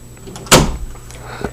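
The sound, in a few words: door being closed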